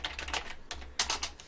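Keystrokes on a computer keyboard during game coding, clicking in quick irregular bursts with brief pauses between clusters, close and clear with no talking.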